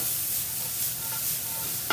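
Garlic and yellow sweet peppers sautéing in a pan, stirred with a wooden spoon, give a steady, close sizzle and hiss that holds at an even level for two seconds, with a brief scrape of stirring near the end.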